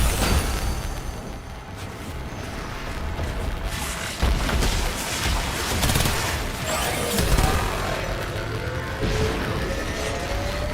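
A barrage of bombardment explosions in the video game Warframe: repeated booms and crashing blasts at an uneven rhythm over a dense layer of loud game noise, with no talk.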